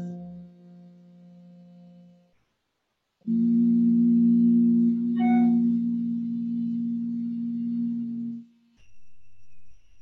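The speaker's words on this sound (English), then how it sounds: "So we're going to just begin with humming." A person hums a sustained low tone during a vocal warm-up, two steady held notes separated by a short pause, close and clear with a faint rising glide near the middle.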